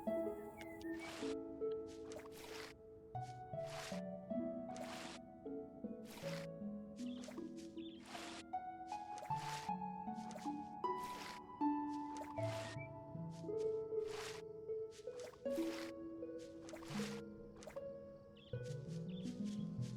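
A watering can pours over crops in the farming game Songs of the Prairie, giving a run of repeated wet drips and splashes in a steady rhythm, close and fairly quiet, with no talking.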